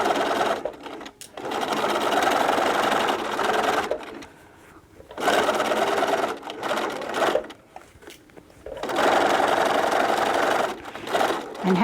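A sewing machine stitches back and forth over basket straps in three loud, sustained runs separated by short pauses, close up and with no talking.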